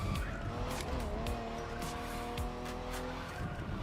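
Racing game car drifting through a turn in The Crew Motorfest-style play on a wheel, engine roaring steadily with sustained tire squeal and skidding layered over it, close and continuous.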